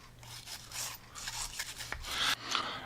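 A brush scrubs factory lube off the parts of a disassembled pistol in rapid, raspy strokes. The scrubbing is close and uneven and grows a little louder toward the end, with no voices.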